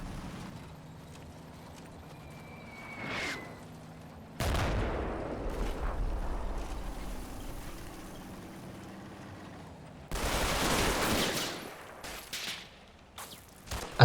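Infantry section opening fire in a Combat Mission battle at Mondrainville during Operation Epsom: a quiet ambient stretch gives way to two louder bursts of mid-distance rifle and machine-gun fire.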